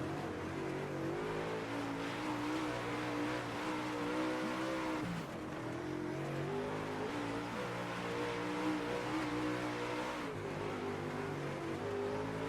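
UMP modified race cars roaring through a heat race on a dirt track, several engines overlapping in a loud, continuous drone that rises and falls as the cars accelerate and back off through the corners.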